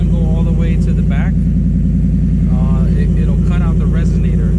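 A 2021 Ford F-150 running with a MagnaFlow side-exit exhaust and no resonator, giving a loud, steady low rumble at idle with someone talking over it throughout.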